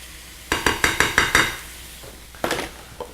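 Shrimp and vegetables frying in a pan, a bed of sizzling broken by a quick run of five or six sharp utensil scrapes and clinks, then a few more, close and without talk.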